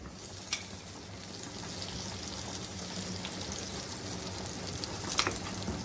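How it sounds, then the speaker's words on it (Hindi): Butter sizzling as it melts in a hot frying pan on a lit stove, a steady, soft hiss and crackle that stays even from start to finish with no talking. "अब यहाँ पे रखते हैं फ्राइंग पैन। चूल्हा जला हुआ है मेरा और इसमें मैं डालने लगी हूँ 1 से 2 टेबलस्पून भर के बटर डालने लगी हूँ।"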